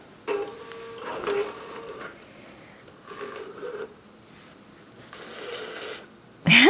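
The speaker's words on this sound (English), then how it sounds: "So what we're going to do now is pull up the bobbin thread." A digital quilting machine pulls up the bobbin thread on a quilt's border row: soft mechanical whirs come in short bursts separated by pauses, ending with a louder, sharper burst.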